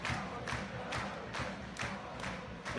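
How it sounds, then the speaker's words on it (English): A large crowd at the BFC vs BFL All Stars football match gives a continuous, fairly distant roar that swells in rhythmic chanting waves about every half second. "The tension in the crowd is building."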